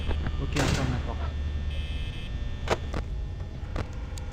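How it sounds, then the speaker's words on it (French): A heavy security door slams shut in Five Nights at Freddy's, a sharp metallic bang followed by further knocks over a steady low electrical drone, with a voice faintly present. "Ok, on ferme la porte."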